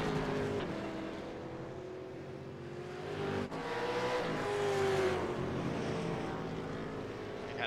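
Race cars roaring around the track at Willow Springs International in an iRacing Super2 Series sim race, a steady loud engine drone with rising and falling pitch as cars run close together, with no voices.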